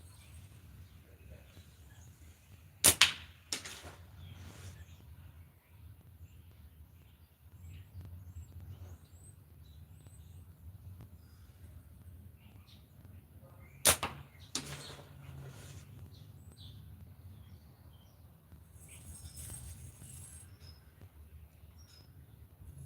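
Slingshot ammo strikes a red-and-white catch-box target twice with sharp, loud slaps about eleven seconds apart, each followed by a brief rattle, over a low steady background hum.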